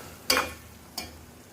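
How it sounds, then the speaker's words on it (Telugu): Prawns fry in an oily pan with a soft steady sizzle, broken by two quick scraping strokes of a spatula stirring the pan, the first stroke louder than the second. "ఇంకొంచెం సేపు వేపుదాం."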